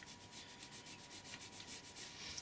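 A fingernail shaped for classical guitar playing is filed along its edges. Quick, even rasping strokes repeat at a steady rhythm close up, with no talk.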